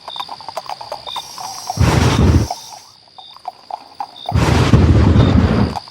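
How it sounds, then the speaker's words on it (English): Two heavy bursts of rumbling thunder, each roaring for a couple of seconds, roll in over a steady ambient background with faint chirps, the second burst longer and sustained, with no talking. "First lightning, then thunder, perfect."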